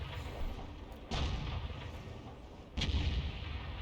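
Two heavy booms from an M53/M55 8-inch howitzer in a video game, a couple of seconds apart, each a deep thud with a rumbling tail over steady background noise.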